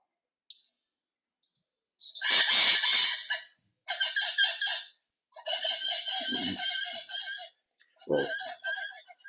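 Grand Cayman subspecies of the Cayman parrot giving several sharp, harsh squawking calls in short bursts separated by pauses, fairly close and clear.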